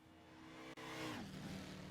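A Red Devil NASCAR build in Gran Turismo 6 drives at Daytona, its engine droning steadily, then dropping in pitch after a brief gap as it shifts or lifts, with no talk over it.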